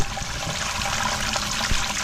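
The cold faucet in a popup camper opened during winterizing, with water running and splashing in a steady rushing stream, close and continuous.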